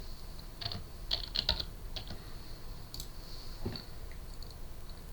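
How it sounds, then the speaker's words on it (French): Close, quick clicking on a computer keyboard: a short burst of keystrokes in an uneven rhythm with small pauses, over a faint background hum. "Je vais taper Apple."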